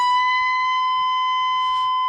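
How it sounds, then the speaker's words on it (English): Electric guitar holds a half-bent note at the 19th fret of the high E string, a single steady sustained tone ringing alone and fairly loud with a slight buzz near the end. "Then I do a half bend on the 19th fret of the 1st string."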